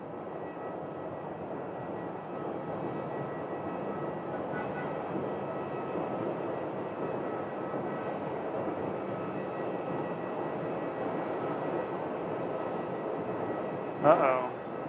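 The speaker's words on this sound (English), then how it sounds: "there's American landing from Newark" American Airlines jet arriving from Newark, landing on runway 8 at Phoenix Sky Harbor, heard as a steady, broad engine roar that holds throughout, with a brief louder burst near the end.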